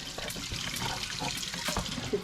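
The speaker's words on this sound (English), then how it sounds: "This is the hot water side, and it's running." Hot water runs steadily from a kitchen tap into a sink, a continuous close splashing hiss with no voices.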